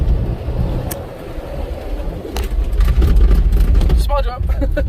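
A 2021 Ford Bronco rumbles loud and close as it bashes through sand dunes, a steady low engine drone with rising thumps and bursts of wind and jolts, and people exclaiming over it near the end.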